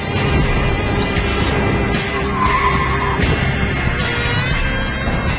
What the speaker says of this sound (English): Something didn't work quite right, and I saw some tire skids, and it wasn't from brakes.